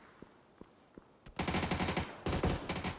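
Automatic gunfire in a PUBG esports match: three sharp single shots spaced apart, then two dense bursts of rapid fire, loud and close, with no talk over them.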